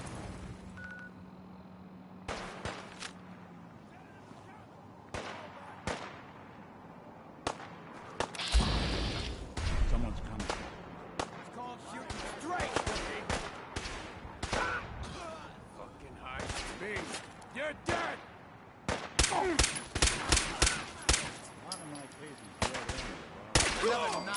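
Bursts of gunfire from the video game Fallout 4 crack out in scattered volleys, single shots and rapid strings alternating with quiet gaps, with a voice briefly heard between the shots.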